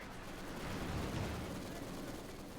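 Panzer tank and Maxim machine gun firing in Company of Heroes 2, a dense, rumbling wash of battle noise at middling level with no distinct individual shots standing out.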